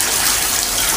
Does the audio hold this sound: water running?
yes